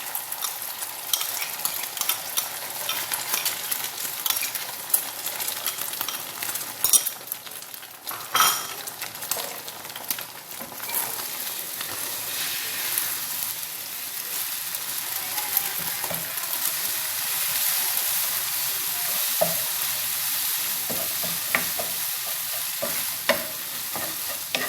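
Eggs cook in a pan with ghee, a continuous close sizzle broken by frequent scraping and clinking as a utensil stirs them, with no voices.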